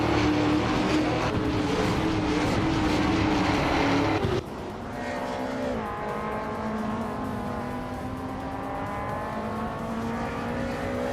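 Race car engines roar in a racing video game featuring a Chevrolet Camaro, a loud sustained whine that drops sharply in pitch midway, then settles into a steadier droning hum.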